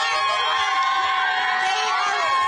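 An excited crowd of Dodger fans cheers and shouts at a street parade, a dense, continuous roar of whoops and raised voices filling the whole stretch at steady high loudness.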